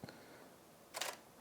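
A camera shutter on a home macro setup firing twice, a faint click at the start and a sharper, louder snap about a second later, in a quiet room.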